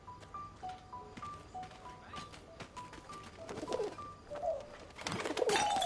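A pigeon coos in repeated soft, low calls, fairly close, with a few louder rustling bursts toward the end and no speech.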